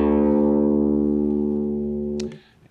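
A guitar with its low E string tuned down to drop D rings out as one sustained, harmonically rich low note that holds steady, then is cut off near the end with a short scrape.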